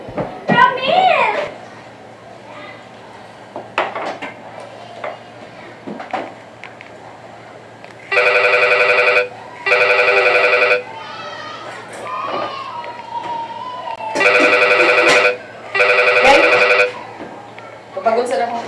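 A telephone rings in two pairs of loud, electronic double trills, separated by a short gap, while children chatter and shout in a lively room before and between the rings.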